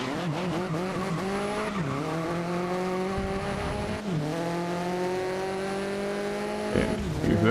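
Koenigsegg supercar engine in the racing game GRID (2019), Swedish hypercar howling steadily with rising gear-by-gear pitch sweeps, brief dips at shifts, a short tyre squeal near the end, loud and continuous with no talk.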